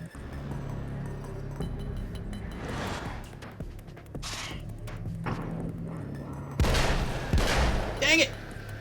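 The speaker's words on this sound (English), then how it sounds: "I wasted a bullet" Gunshot fired in a video game, with a few sharp reports and metallic clinks scattered through a busy game soundscape, a louder burst near the end, and a voice speaking at times.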